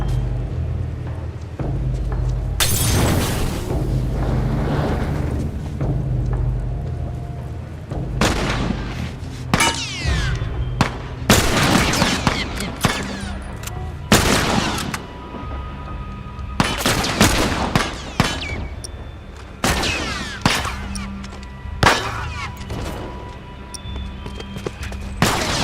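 Rapid bursts of gunfire and booming shots from The Last of Us crack close and loud in irregular clusters, with short lulls between volleys and heavier impacts scattered throughout.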